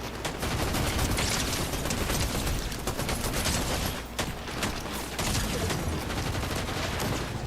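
Dense, continuous gunfire rattles through a Fortnite live event crowded with bots, shots overlapping into a loud unbroken fusillade with one brief dip partway through.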